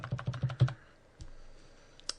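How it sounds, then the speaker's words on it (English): A computer keyboard's up arrow key is tapped rapidly about five times in a quick, close, crisp run, followed by a couple of quieter isolated clicks. "if you just hit up on the keyboard"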